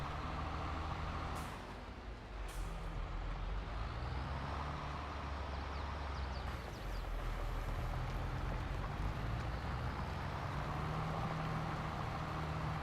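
A tractor in the video game Farming Simulator 22 drones with a steady, loud low engine rumble throughout, with brief hissing bursts like air brakes early on and no talk.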